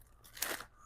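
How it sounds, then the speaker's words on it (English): A cat chews on something indoors, giving a single short, faint crunching bite that stands out briefly against a quiet room. "Cat's over there chewing on something."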